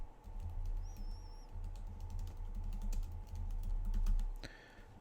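Rapid, uneven typing on a computer keyboard while entering the name of a new lab report, with steady close key clicks over a low constant hum and a brief higher tone near the end.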